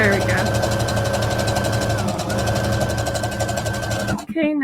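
A sewing machine runs steadily while stitching a jacket seam, a loud, close, even mechanical whir that keeps going for several seconds, slows briefly midway, then stops abruptly at the end.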